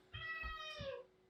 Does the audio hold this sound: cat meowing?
yes